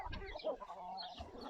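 Hens clucking inside a chicken coop at an ecolodge south of Marrakech, a few soft, close clucks and throaty murmurs in quick irregular bursts, without any talk.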